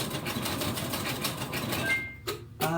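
Sewing machine stitching an improv quilt, a steady mechanical whir of running stitches that stops abruptly, followed by a couple of short single-stitch bursts, close and prominent.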